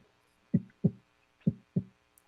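A voice imitates a heartbeat with four low, soft thumps grouped in two pairs, each pair a quick double beat, close and alone with no talking.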